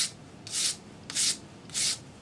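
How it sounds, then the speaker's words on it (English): Three rhythmic back-and-forth strokes of abrasive sanding a solder join on a metal jewelry bezel made for setting a faceted stone, close and fairly quiet with short pauses between passes. "Sand your solder join now."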